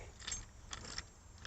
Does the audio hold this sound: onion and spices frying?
no